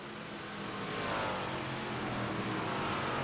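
Race cars lapping a dirt speedway, a dense, loud roar of several engines revving and passing, rising in intensity and holding steady with no pauses.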